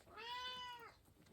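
A pet cat named Panda lets out a single clear, drawn-out meow, fairly close and faint, rising and falling over nearly a second in a quiet room.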